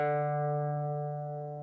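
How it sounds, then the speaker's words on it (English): A guitar string is plucked at the fifth fret for tuning, giving one clear sustained note with rich overtones that rings and slowly fades. "So the 5th fret, those strings should sound the same."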